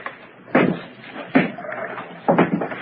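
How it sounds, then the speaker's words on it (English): A side door in a radio drama thuds and clunks as it is opened, three distinct knocks or bumps spaced out and close, with faint background sounds between. "I'll try the door. Diana, it's open."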